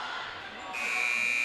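A shot clock buzzer sounds at a girls high school basketball game between Dansville and Livonia. A sustained electronic tone starts partway through and holds steady over the crowd noise and commentary.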